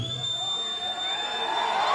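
A crowd at a metal concert at The Roundhouse in Sydney cheers and screams loudly in a dense, sustained roar of many voices.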